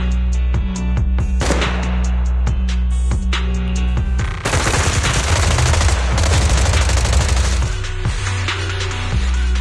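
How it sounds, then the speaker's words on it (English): Rapid bursts of suppressive automatic gunfire with heavy booming blasts in the video game Zenless Zone Zero, loud and continuous, layered over a steady low rumble. "Gunfire? This pattern. Suppressive marching fire."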